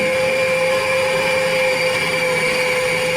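Electric mixer beating cake batter with eggs for a cream pie with pineapple and chocolate topping, a steady loud motor whine with a constant hum that runs unbroken throughout, no talking.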